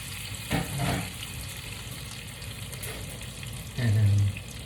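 Butter melting in a frying pan before a steak goes in, giving a soft steady sizzle with light clatter and a brief louder burst near the end.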